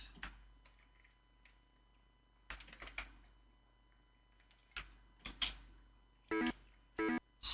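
Keys on an Amiga computer keyboard are pressed in sparse bursts, single soft clicks at first, then louder clustered clacks toward the end, close up in a quiet room with no speech.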